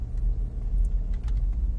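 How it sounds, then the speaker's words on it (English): A Chrysler Pacifica minivan speeding past on the road, a continuous low engine and tire rumble, fairly close and steady for the whole moment. "I've got this Chrysler Pacifica flying this morning."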